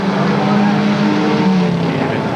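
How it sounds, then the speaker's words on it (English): Engine roar of a Toyota RX-7 race car backfiring as it heads into turn 1 at Creek County Speedway, Oklahoma, loud and continuous with a steady drone, under voices. "Toyota RX-7 that continues to backfire as it heads into turn 1"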